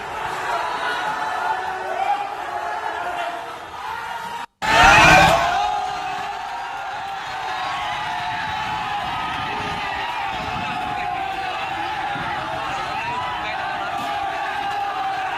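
A large crowd of hundreds shouts and roars together at Majewadi Chowk in Junagadh during unrest over a dargah, a dense, sustained wall of voices with a brief cut and a louder surge early on.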